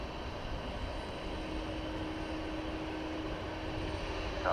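An airliner taxiing toward a runway at DFW Airport, a faint, steady engine rumble and whine heard from a distance with no talking.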